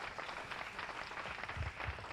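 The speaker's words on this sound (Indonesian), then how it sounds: "Tepuk tangan dulu yang meriah bagi Allah kita." A worship-night church congregation claps together in a soft, fairly distant burst of applause, a steady patter of many hands with faint voices mixed in.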